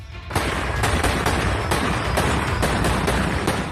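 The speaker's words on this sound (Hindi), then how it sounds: "किस तरह इन आतंकियों का हवाई फायरिंग के साथ स्वागत किया गया" Celebratory aerial gunfire welcoming militants crackles in a dense, continuous burst of rapid shots and volleys, loud and close, with overlapping reports and no speech.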